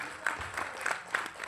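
An audience at a Hindi-language talk claps briefly, a light, scattered round of applause heard somewhat distantly over a quiet hall.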